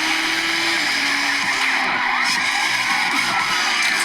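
A Porsche driving and skidding in a police-chase video game: a loud, steady engine roar with squealing, sliding tire noise that rises and falls over several seconds, close up and alone.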